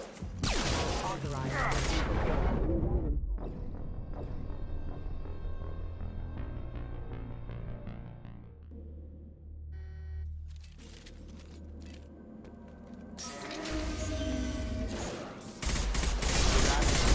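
Bursts of rapid gunfire in the sci-fi shooter Mass Effect 2, dense crackling volleys at the start and again near the end, with quieter game sounds and speech in between.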